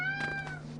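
A mounted cat in the Final Fantasy XIV video game gives one clear, drawn-out meow with a slight downward slide, close and loud over a steady low game hum.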